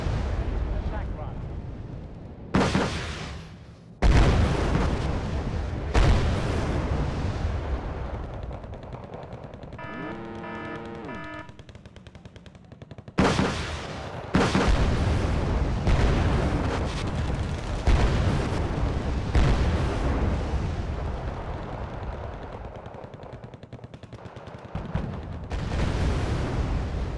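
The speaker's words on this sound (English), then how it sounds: "My little scorpions firing away." Scorpion units firing in the Cold War strategy game Wargame: Red Dragon, heavy booming bursts of artillery and gunfire rolling repeatedly in a dense barrage, with a short voiced passage in the middle.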